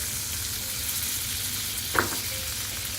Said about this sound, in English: our sweet potatoes are also frying in butter